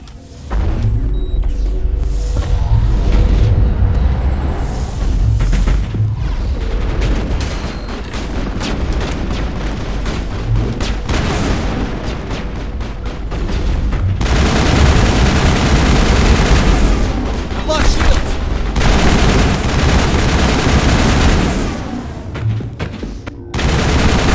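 Sustained, loud gunfire in a Mass Effect firefight: dense bursts of automatic weapon shots and booms layered over a continuous rumble, with barely any pause for over twenty seconds.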